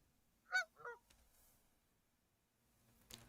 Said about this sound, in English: Here we can listen to the goose now.